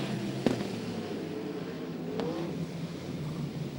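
Sprint cars racing at Archerfield Speedway, heard as a continuous distant engine roar with two sharp cracks or pops, no talking over it.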